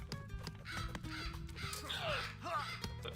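Cawing of a bird unit in a real-time strategy game, several harsh crow-like calls over a dense bed of battle noise and clatter, fairly faint overall.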